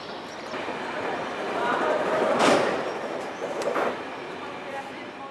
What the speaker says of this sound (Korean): 여긴 다시 알레포역입니다.